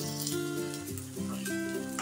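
Besan chilla, a gram-flour pancake, frying in a pan, giving a steady close sizzle throughout with some faint background tones.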